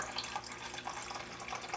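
Water poured steadily into a paint mix, a continuous splashing, trickling wash that holds at a moderate level with no voices.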